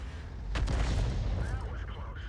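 Artillery rounds fire in a video game, a burst of booming reports with a sharp onset followed by rumbling, echoing decay, moderately loud and close.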